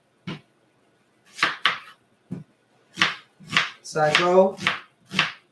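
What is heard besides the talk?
knife chopping white onion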